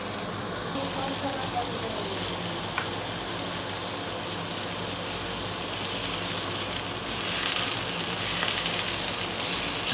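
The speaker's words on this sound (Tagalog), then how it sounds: "Ito yung ihawan na indoor" Food sizzles steadily on an indoor grill beside a pan of pasta water, a dense hissing crackle that runs loud and continuous throughout.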